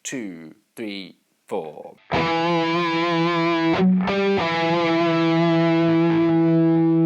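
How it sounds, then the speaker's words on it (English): Heavily distorted electric guitar rings out with one sustained, aggressive palm-muted note on the 7th fret of the A string, loud and steady after a spoken count-in. "I had this really aggressive palm mute on the 7th fret of the A string."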